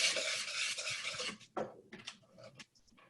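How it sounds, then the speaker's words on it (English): Cookie dough ingredients being whisked together in a bowl, a loud, close, steady swishing and scraping that gives way to a few separate strokes and clinks as it slows, with no talking. "Now we're going to whisk that together"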